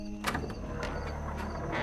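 A door swings open as a story sound effect, a short creak and sliding scrape with a quick knock near the start, then a dragging mechanical hum, close and fairly loud.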